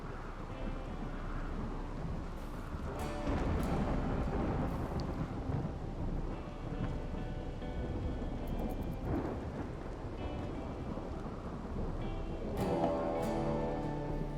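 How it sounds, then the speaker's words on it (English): A psychic storm in a video game brings continuous rumbling thunder over steady rain, dense and unbroken throughout, with faint game sounds layered in. "A psychic storm."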